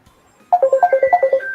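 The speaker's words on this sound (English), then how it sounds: "Let me answer the phone call." Electronic phone ringtone chirping in a quick rhythmic pattern of about ten short tonal beeps, loud and close, starting abruptly after a quiet moment with no talk over it.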